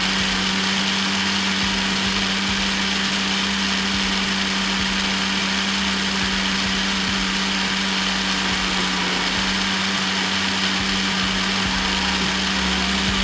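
An electric blender machine runs steadily, mixing ingredients for a chilled iftar drink in a home kitchen, a continuous motor whine with a strong low hum throughout and no talking.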